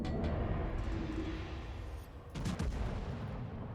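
Battleship main guns firing shells in the naval video game World of Warships, a few heavy booming salvos with rumbling tails, one sharp burst mid-way followed by another deep report, quiet and without talking.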